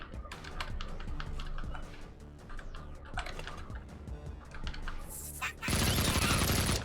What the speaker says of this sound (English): Machine gun.